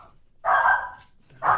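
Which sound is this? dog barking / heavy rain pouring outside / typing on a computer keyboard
dog barking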